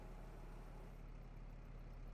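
Giant tractor engine idling in a farming simulator game, a steady low rumble with a constant drone throughout, close and continuous with no talk.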